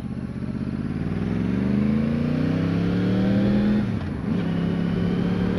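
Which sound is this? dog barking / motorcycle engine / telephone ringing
motorcycle engine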